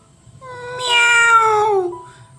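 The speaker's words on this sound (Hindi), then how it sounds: "तभी एक बिल्ली की बोलने की आवाज़ सुनाई दी।" A cartoon cat gives one drawn-out, loud, close meow that rises and then falls away, heard alone with no other sounds.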